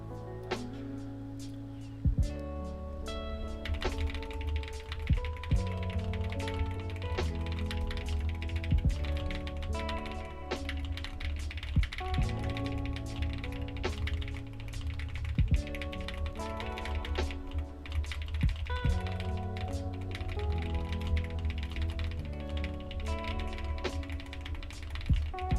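Rapid computer keyboard typing during an online typing race, a dense continuous clatter of keystrokes with steady rhythm and occasional heavier taps, close and fairly loud, alongside a tonal background of music.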